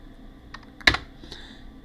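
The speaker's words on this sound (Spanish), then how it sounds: "Pulso Enter." A single sharp press of the Enter key on a computer keyboard, close and crisp, with a few lighter key taps around it in an otherwise quiet room.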